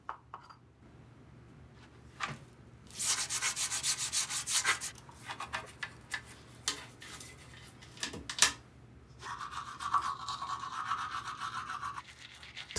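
A toothbrush scrubs in bursts of brisk bristle rubbing, stopping and starting over several seconds with small clicks and knocks between strokes, close and fairly quiet.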